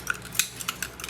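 A metal knife working against the hard shell of a giant clam, producing a few light, irregular clicks and scrapes spaced out over about a second, close and fairly faint.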